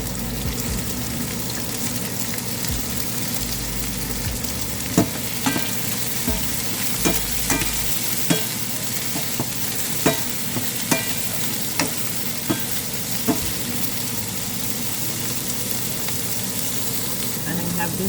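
Broccoli and soya chunks fry in a pan for a chow mein, giving a steady loud sizzle, while a utensil stirring them knocks against the pan in sharp regular taps every second or so.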